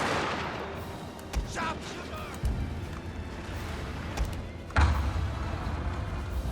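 Cannon fire from a Total War: Fall of the Samurai siege of Osaka Castle, aimed at Shogunate infantry: a few scattered booming shots over a steady battle din, with a louder thump near the end and speech-like chatter underneath.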